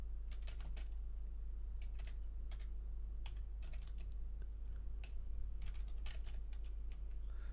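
Typing on a computer keyboard, a steady run of close, crisp key clicks in irregular bursts over a constant low electrical hum, with no talking.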